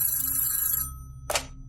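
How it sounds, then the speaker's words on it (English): A telephone rings once with a bright, shrill bell lasting just under a second over a low steady drone, then falls silent before a short sharp burst like a receiver being picked up. "Phillips's phone rang, and he answered it."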